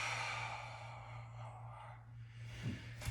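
A deep, drawn-out exhale through the mouth during a standing yoga flow, a breathy rush of air close to the mic lasting a few seconds over a steady low hum.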